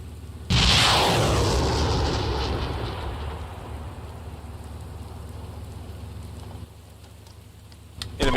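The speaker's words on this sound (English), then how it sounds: "Enemy tank destroyed." A tank gun firing in the Steel Beasts simulator: one sudden loud blast with a hissing, rumbling explosion that slowly decays into a long low roar, followed by steady engine rumble and a faint thump near the end, with no talking.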